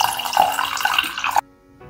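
Water poured from a cup into a small pot while making syrup: a short splashing trickle lasting just over a second, then abruptly stopping into near silence.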